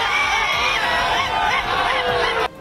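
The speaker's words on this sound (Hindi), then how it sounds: "बीजेपी कार्यकर्ताओं की भीड़ सड़कों पर दिखी" A street crowd of BJP workers celebrates a civic election victory in Gujarat with loud overlapping shouts, whoops and chatter, dense and continuous, then dropping suddenly at the very end.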